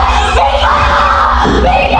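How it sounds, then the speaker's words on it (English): A woman screams loudly and continuously while being dragged from a room in a horror film, a strained, sustained yell with a heavy low rumble underneath. "She is then dragged from the room, screaming."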